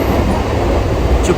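A Mumbai local train rolls toward Bandra station with a loud, continuous rumble of wheels and carriage noise from inside the train, plus a brief higher squeal near the end.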